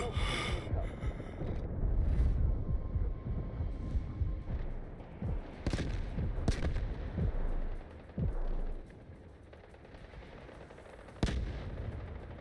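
An artillery barrage in the Delta Force video game lands as a series of heavy blasts and sharp cracks, some close and loud, others more distant, spread irregularly across a noisy battlefield.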